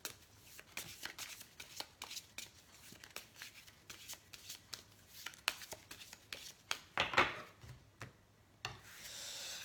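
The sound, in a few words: shuffling Oracle de la Triade oracle cards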